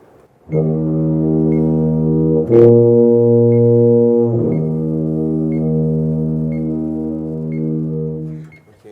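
A tuba holds a long, steady low B note, loud and close, with a brief half-step shift partway through before settling back on the sustained tone.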